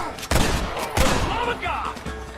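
Gunfire in the Red Dead Redemption video game: two loud sharp shots about half a second apart, followed by echoing tails and quieter game sounds.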